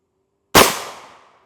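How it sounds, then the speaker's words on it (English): A single loud rifle shot in a body-armour plate test using a 67.5 grain IMR 4350 load, a sharp crack after silence followed by a ringing decay lasting nearly a second. "Easy enough shots number 1, 2, and 3"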